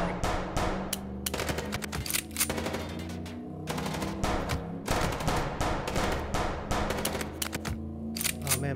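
Rapid, dense gunfire from the video game Chicken Police, bursts of automatic shots crackling loudly and continuously with brief gaps, heavy and close throughout.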